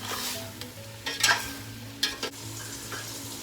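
Chicken with dry spices stirred in a pan, a steady soft sizzle broken by a few sharper scrapes and clanks of the spoon against the pan, heard close with no talk.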